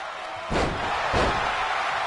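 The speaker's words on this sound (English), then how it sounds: "Slamming the knee into the floor now." A wrestler slams a knee into the ring floor at a live wrestling show, giving two heavy, booming thuds about half a second apart over steady crowd noise.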